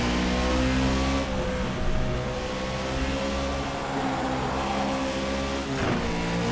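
Race car engine in the rFactor 2 racing game, a steady loud harmonic drone that rises and falls in revs across the lap, with a brief dip and shift near the end.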